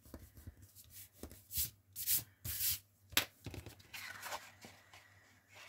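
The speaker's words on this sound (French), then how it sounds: "Bon, je marque mes plis." Paper being folded and its creases pressed down by hand, giving a run of close, dry rubbing and scraping strokes in uneven bursts, with a few soft murmurs underneath.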